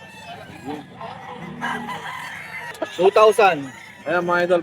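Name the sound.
rooster crowing at Bocaue fowl sellers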